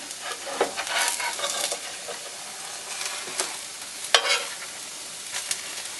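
An omelet made from freeze-dried ingredients cooks in a pan, giving a steady soft sizzle with scattered scraping and stirring clicks, close and moderately loud, with no voices.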